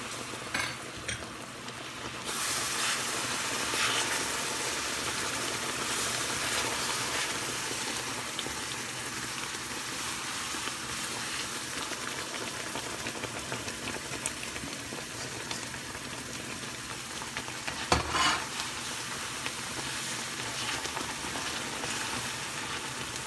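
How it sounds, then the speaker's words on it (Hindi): Sugar syrup poured into roasted semolina in a pan, erupting into a loud, sustained sizzle and hiss that holds steady for a long stretch, with a brief clatter near the end. "अब हम इसमें डालेंगे ये शीरा जो हमने बनाया था।"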